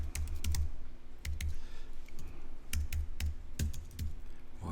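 A name being typed on a computer keyboard, quick bursts of close, crisp key clicks with short pauses between groups, no voices over them.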